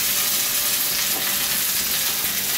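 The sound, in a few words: sautéing red chicory in Italian olive oil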